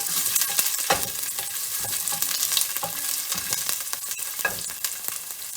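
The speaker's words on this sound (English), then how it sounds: "Now I will add some of my onion in the pot." Onion fries in a pot over medium heat for Jamaican-style curry chicken, a steady close hissing sizzle broken by occasional stirring scrapes.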